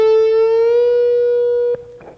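Electric guitar note bent up a whole step on the G string at the 14th fret, a single sustained bright tone held steadily before a brief pick noise and soft second attack near the end.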